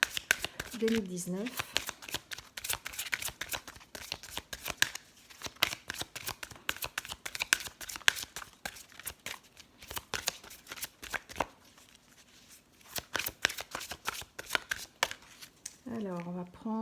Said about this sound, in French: on va tirer une carte pour la journée